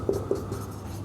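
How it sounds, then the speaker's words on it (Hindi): Quick strokes of chalk or marker on a board during an accounts class lecture, a couple of sharp taps followed by short scratchy writing sounds, close and quiet with no voices. "मैं एक बार आपको इसकी हिंदी लिख के दिखा देता हूँ।"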